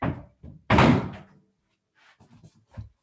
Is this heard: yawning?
no